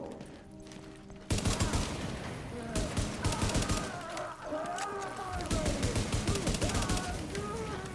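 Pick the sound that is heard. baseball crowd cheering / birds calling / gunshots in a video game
gunshots in a video game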